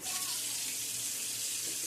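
Water runs steadily from a kitchen tap, a continuous close hiss of flowing water lasting throughout with no talk, as water is started for pizza dough.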